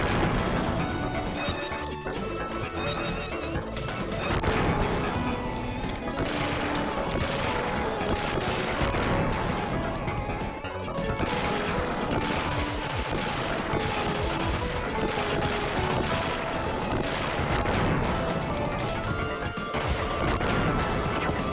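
Dense, continuous gunfire and crashing explosions from the Sega Genesis game Gunstar Heroes, a loud, relentless barrage layered over busy game music for the whole stretch, with no talking.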